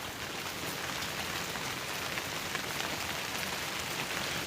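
Steady rain patters on a rain shelter, a dense, even hiss of drops close by that holds unchanged from start to finish with no voices.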